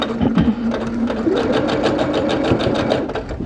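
A sewing machine runs steadily while stitching fabric for a strip-pieced pillow, its needle giving a fast, even rhythmic whir, loud and close, with no talking.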